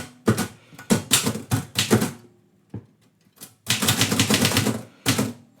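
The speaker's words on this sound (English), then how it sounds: "The one problem is this typewriter keeps moving." A manual typewriter clacks away in dense, rapid bursts of keystrokes, with short pauses between runs, during a live poetry-writing session; the sound is close and loud, with no talking.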